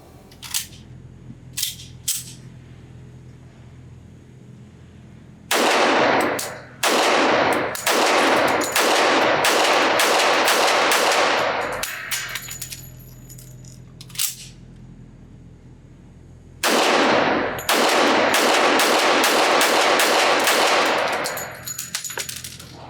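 Shots from a Dornaus & Dixon Bren Ten Marksman Special .45 ACP pistol at an outdoor range: a few scattered single reports, then two rapid strings of loud, closely spaced shots with short pauses between them.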